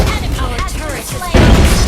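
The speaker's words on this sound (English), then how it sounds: "Our turret has been destroyed." A deep boom as a turret is destroyed in the Mobile Legends mobile game, a loud burst arriving near the end after softer tonal game sounds and an announcer voice.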